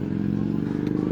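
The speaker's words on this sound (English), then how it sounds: "Motorcycle going crazy." A nearby motorcycle revs hard in a short, loud, rumbling burst with a rough, throbbing engine note.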